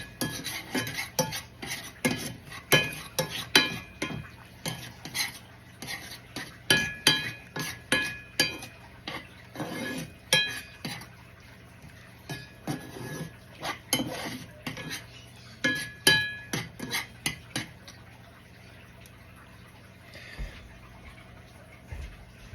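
A spoon stirs bouillon in a pan so it melts, giving repeated close clinks and scrapes of metal on metal in a steady, uneven rhythm, with no talking.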